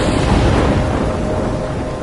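Steady, loud storm ambience from the video game Life is Strange, a continuous wash of wind and rain with low rumbling thunder throughout, no talking.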